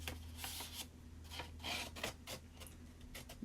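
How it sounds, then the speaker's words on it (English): A paper envelope edge is scraped and roughed up for a vintage craft look, giving close, repeated rasping strokes in an uneven rhythm over a faint background hum. "just rough up the envelope a little bit. Kind of loud, isn't it? And just give it some scrapes and scratches."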